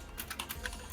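Rapid keystrokes on a computer keyboard while someone replies to an email: close, crisp clicks in an uneven run, with no voices.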